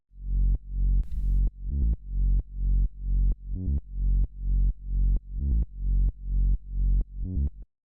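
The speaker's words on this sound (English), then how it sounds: "the first sound we got going on here is this bass," An acid techno synth bass holds long F sharp notes in a steady repeating pattern, deep and buzzy with a slightly distorted edge, each note swelling and retriggering at an even pulse, alone with no voices.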